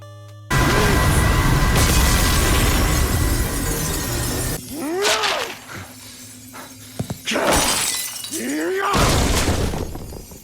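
Glass shatters and objects crash loudly as a tall, dark-haired Dracula smashes up his room, with repeated bursts of breaking and banging separated by brief lulls, and some faint voice underneath.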